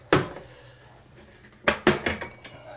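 Metal clanks from a baseboard heater cover, one sharp hit at the start, then after a quiet gap a quick group of three or four clattering knocks as the cover is lifted off and turned over.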